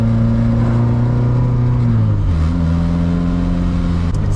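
A Ferrari-engined Alfa Romeo 105 on the road holds a steady, loud engine drone from inside the car, pitch sagging then settling as revs ease, with a smooth continuous tone and no talking.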